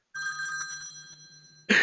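A telephone rings during a video call, an electronic trilling ring with steady repeated pulses that carries on for over a second before a burst of louder noise cuts in.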